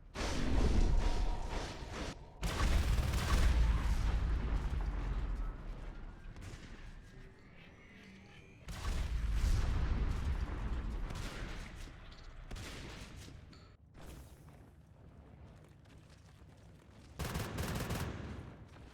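ARC siege units in a Natural Selection 2 style strategy shooter match pounding away, repeated booming volleys with rumbling swells and sharp cracks, loud and fairly close, a few quieter gaps between barrages.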